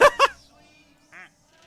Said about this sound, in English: a duck slipped in and I'm not sure where it went